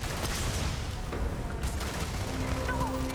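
Dense gunfire and explosions in Starfield space-game combat, a continuous loud barrage of shots and booms filling the whole stretch with no pause.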